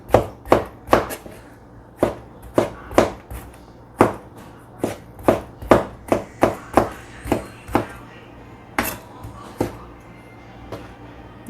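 Vegetables chopped on a cutting board with a knife in a home kitchen, a series of sharp, loud, close chops in an uneven rhythm, some in quick runs and others spaced apart, with no talking.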